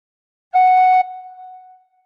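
A single tin whistle note, F sharp, played once: a clear, steady pure tone lasting about half a second, then softening into a quieter held tail that fades away, alone with no other sound.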